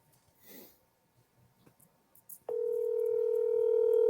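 A telephone dial tone switches on abruptly and holds as a steady, loud, continuous hum after a few faint breaths and small rustles.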